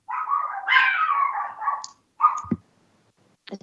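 A dog barking indoors, a few short close barks and whining yelps with pauses between them, heard alone with no talk.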